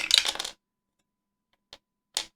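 Many dice clatter and rattle across a hard surface in a dense half-second burst, followed after a pause by two short isolated clicks as the last ones settle, with silence between.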